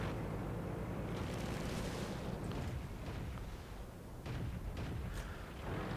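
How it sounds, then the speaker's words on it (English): A 40mm Bofors gun fires in World of Tanks, its bursts rolling into a steady, rumbling wash of distant battle noise with several sharper cracks toward the end. "Looks like somebody's opening up on him with a Bofors gun. 40mm."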